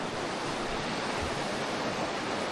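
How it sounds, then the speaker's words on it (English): A river flows along the White Rim Trail, a steady broadband rush of moving water that stays loud and even throughout with no breaks and no voices. "no idea there was a river here"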